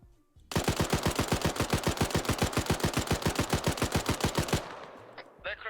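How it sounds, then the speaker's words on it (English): A long burst of automatic gunfire comes from a building in Arma 3, with rapid, evenly spaced loud shots running for about four seconds before stopping, followed by a fading tail. "Billman, is that you firing over there?"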